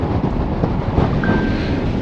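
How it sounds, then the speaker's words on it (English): Cold wind gusting across an open fell on a sunny day, a steady loud rumbling buffet against the microphone with no voices. "that wind is cold"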